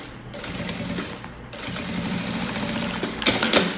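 Domestic sewing machine running steadily, stitching a quilted heart-shaped matelassé piece, with a continuous mechanical whir and rapid needle clatter that briefly pauses and resumes, close and fairly loud, no talking.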